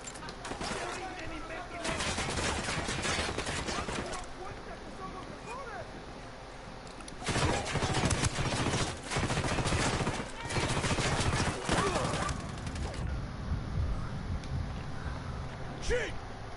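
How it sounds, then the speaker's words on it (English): Bursts of gunfire fill an open world video game battle, with heavy rapid volleys like machine-gun fire and a steady rumble beneath, loud and repeated over most of the stretch. "Open fire! You're shooting that thing in front of me"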